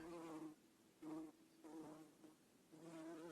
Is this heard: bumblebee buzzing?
yes